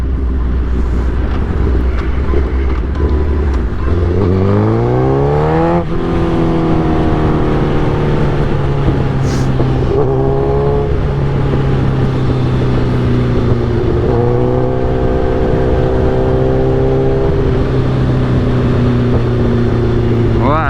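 A 2008 Suzuki GSX-R 1000 fitted with velocity stacks and a bad clutch runs loud and close, its engine revving up in rising sweeps then holding a steady drone before climbing again.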